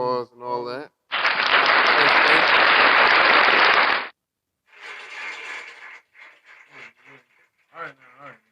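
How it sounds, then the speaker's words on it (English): A podcast audience or hosts break into a burst of applause for the featured artists, dense clapping lasting about three seconds, framed by short bits of talking before and after. "let's give them all some round of applause and all that"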